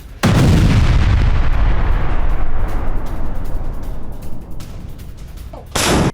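A heavy D-30 artillery gun fires with a sudden loud boom that rolls and fades over several seconds, then a second blast starts at the very end.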